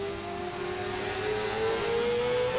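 A racing video game car engine held at high revs, droning steadily near the rev limiter with a sustained whining tone that climbs slightly, alone with no talk over it.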